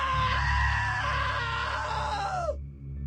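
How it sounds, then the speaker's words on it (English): A long, sustained scream in the video game What Remains of Edith Finch, loud and wavering at a steady pitch for over two seconds before it bends downward and cuts off abruptly. "Now that was a great scream"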